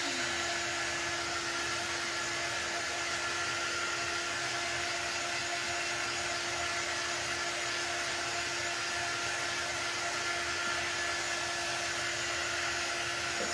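Hair dryer blowing steadily on a craft transfer applied to a wooden sign, a loud continuous whoosh with a constant motor whine running unbroken throughout, no talking.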